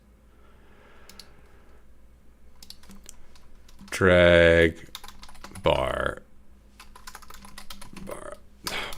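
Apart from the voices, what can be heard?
typing on a computer keyboard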